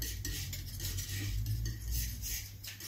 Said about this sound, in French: un petit peu de blanc que je mélange à la couleur précédente